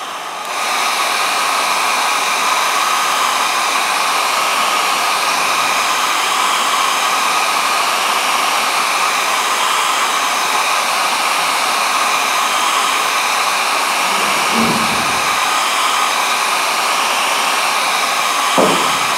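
A hair dryer blows steadily and loudly at close range to dry a model during a modelling workshop, producing a continuous whooshing roar with a few faint handling knocks.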